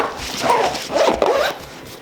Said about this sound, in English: And then this zips up as well.